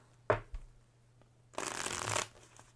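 Playing cards from the board game Oh My Goods! handled with a couple of sharp taps, then riffle-shuffled in one quick, close, rustling burst over a low steady hum.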